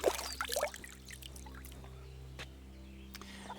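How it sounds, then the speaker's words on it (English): Water pours and splashes into a wooden trough in Kingdom Come: Deliverance 2, a brief close burst of sloshing that quickly settles into a faint trickle over a low steady background hum. "She's plunking up her little water trough here."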